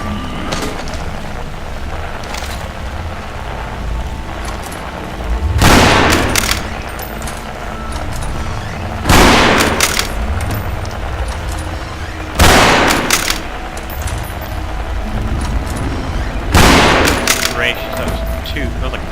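Four loud, heavy gunshots in the video game The Forgotten Ones, spaced a few seconds apart over a steady rumbling background, each with a booming tail.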